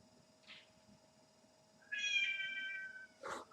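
A pet cat meows in a drawn-out, tonal call lasting about a second, fairly close and clear, with a short squeak before it and a brief rustle after, in a quiet room.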